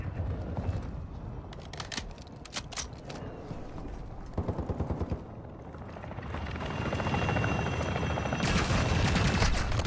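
Bursts of rapid gunfire in a Call of Duty DMZ match rattle over a constant helicopter rotor drone, shots clustered in quick volleys that give way to a louder engine roar, no speech.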